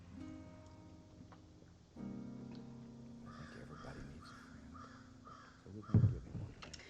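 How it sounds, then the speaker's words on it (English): Crows in the Elder Scrolls Online game caw several times in irregular bursts over a soft rainy ambience, moderately near, with a louder thump near the end. "I don't hate crows. They're just not my favorite bird."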